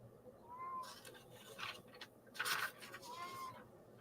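A cat meows twice, two drawn-out, rising-falling cries, fairly faint and close, with soft rustling and scraping sounds between them.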